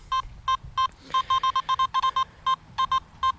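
Simplex metal detector giving a repeated target tone, a string of short bright beeps in an uneven rhythm, close and clear over faint background noise.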